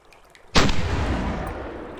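A gun in the video game Pop Some Eyes fires at approaching enemies in one sudden loud blast, followed by a long rumbling decay that fades slowly over the next second and a half.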